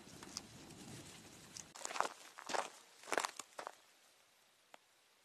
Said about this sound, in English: the footsteps that I keep hearing behind me